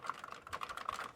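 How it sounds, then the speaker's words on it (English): Quick, light keystrokes tap on a computer keyboard in a short, uneven burst, faint and close. "I was just typing some code into the internet machine"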